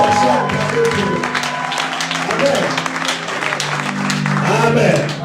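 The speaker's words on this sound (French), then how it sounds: "Est-ce qu'on peut les acclamer?" A church congregation applauding the choir during a Sunday service, steady clapping and crowd noise throughout with a voice talking over it.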